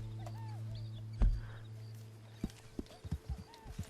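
Horse hooves clip-clopping in the Red Dead Online video game, an ambient hum with a heavy thud, then a run of distinct, fairly close hoof knocks building toward the end, with faint bird-like chirps.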